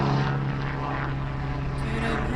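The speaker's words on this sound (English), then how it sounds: "There's a very noisy plane just going overhead here somewhere. Oh, it's a helicopter." A helicopter passes overhead with a steady, droning engine and rotor hum that holds at an even level throughout, with no talk over it.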